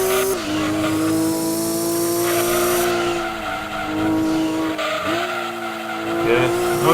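A race car in the Gran Turismo 2 video game, its engine holding a sustained whine that rises and dips through gear changes, with tires squealing and skidding through corners, loud and continuous, and a voice talking over it at times.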